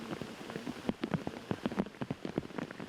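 Rain pattering on a golf course during a tournament round, a steady wash of drops with scattered sharper taps close by, no voices.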